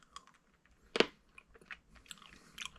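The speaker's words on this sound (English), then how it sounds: "Chew them a little bit." Fish oil capsules being bitten and chewed, one sharp close crunch standing out amid faint wet mouth sounds and a few softer chewing clicks.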